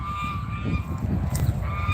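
Gifted geese at a family home honking loudly and close by, a steady run of overlapping nasal honks with no talking.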